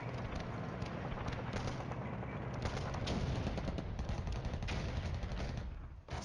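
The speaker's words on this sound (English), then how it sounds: "Barrage hits those tanks." An artillery barrage hits tanks in the war game Flashpoint Campaigns, a dense continuous rumble of explosions and crackling fire, loud and sustained, then briefly dropping off near the end.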